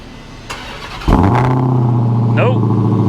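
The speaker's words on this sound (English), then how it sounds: "So let's do a quick cold start" A Saab 9-3 Turbo with a low oil pressure problem cranks over on a cold start, catches and settles into a steady, loud idle, with a voice talking over it near the start.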